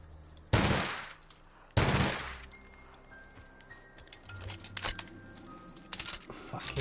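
Light machine gun fire in the video game The Outer Worlds: two loud, sharp bursts about a second apart, followed by lighter clattering and rattling noises in the background.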